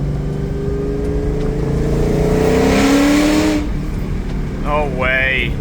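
A Ford SVT Cobra accelerating hard in second gear, its engine note climbing steadily in pitch as it revs up loud and close, then dropping away before a quick rev rise near the end.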